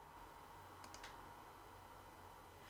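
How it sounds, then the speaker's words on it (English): Quiet typing on a computer keyboard while using Zoom group chat: a brief burst of three or four soft key clicks over faint background hiss, no talk. "you can type your questions and answers in the Zoom group chat by clicking the chat box"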